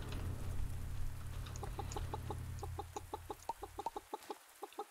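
Short, regular clucks from chickens in the farming game Pumpkin Days, repeated in an even rhythm over a low steady background hum that drops away near the end, with no voices.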